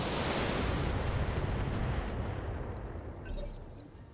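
Heavy mech weapons fire in the BattleTech Extended tabletop-style battle game, a dense roaring barrage of explosive blasts that stays loud and continuous, then thins into rumbling impacts with a few sharp crackles near the end.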